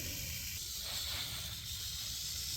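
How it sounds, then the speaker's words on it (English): Tiger rattlesnake rattling a warning after being startled, a steady continuous buzzing hiss close by, holding evenly for the whole stretch without pauses. "As you can hear the rattle here, the snake is warning me that it's there"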